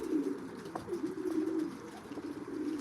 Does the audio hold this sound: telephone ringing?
no